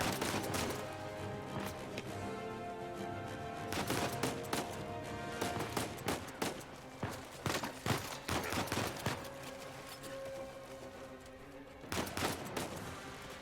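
Rapid bursts of gunfire from blind firing from the hip in Uncharted 4, with clusters of sharp shots in quick succession, then pauses and more volleys over a steady background of game ambience.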